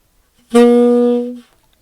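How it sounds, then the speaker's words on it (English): A single sustained tenor saxophone C sharp, played with no keys pressed, held steady for about a second and then cut off, loud and close with nothing else around it. "if you don't have any keys on the saxophone, that's going to be a C sharp"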